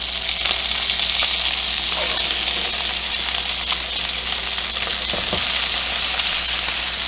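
Salmon fillets fry loudly in a hot pan as they are turned, a dense, steady sizzle with a few faint scrapes from a fish slice, close and continuous with no talk.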